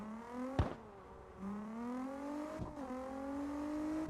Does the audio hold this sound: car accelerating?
yes